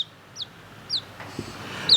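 A chicken in a brooder gives a few short, sharp clucks spaced across two seconds, close by and fairly faint over a quiet room hum, with a soft thump partway through.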